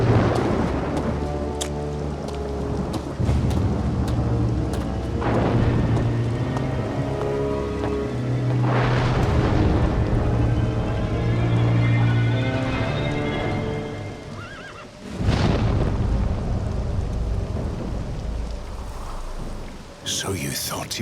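Heavy rain pours steadily through a video-game storm in Two Worlds, with a loud rolling thunder crash near the middle and another near the end, and a horse neighing at moments amid the downpour.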